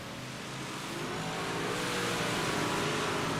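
IROC big block modified race cars roar around the Lanier track, a loud continuous engine drone that swells steadily with no pauses.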